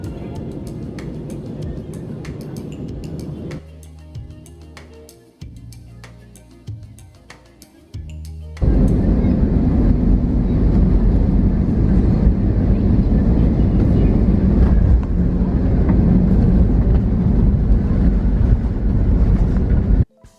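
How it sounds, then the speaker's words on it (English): Frontier airliner descending and landing at Chicago: a steady cabin roar that abruptly jumps much louder partway through and stays as a loud, broad rush of engine and wind noise until it cuts off at the end. "we were over Chicago and begun our descent for a silky smooth landing"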